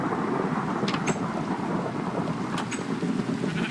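Minecraft thunderstorm with lightning, a steady roar of heavy rain and rumbling thunder that stays close and loud throughout, with faint sharp crackles breaking through twice.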